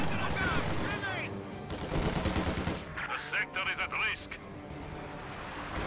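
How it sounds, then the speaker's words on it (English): Heavy B4 howitzer artillery shots in a World War II strategy game battle, a deep boom followed by a cluster of sharp bursts, with game noise underneath and a commentator's voice over it. "B4 firing."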